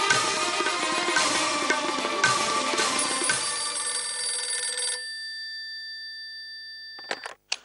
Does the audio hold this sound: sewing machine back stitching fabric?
no